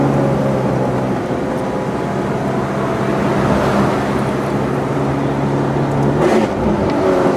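A Ferrari F430 Scuderia 16M engine pulls hard under acceleration, a loud, steady mechanical roar with sustained tonal drone heard from close inside the car, with rising pitch late on and no talking.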